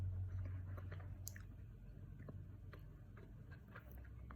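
Someone chews frozen pistachio mochi ice cream close to the mic, with faint soft, irregular clicks and squishes over a low steady hum and no talking.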